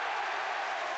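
Stadium crowd at a Luton versus Fulham football match reacting to a penalty being scored, a dense, steady roar of applause and voices filling the whole moment without a break.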